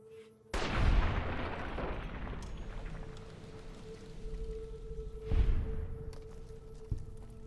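Gunshots fired in Fallout New Vegas, two loud booming reports several seconds apart, each with a long rumbling tail over a steady game hum.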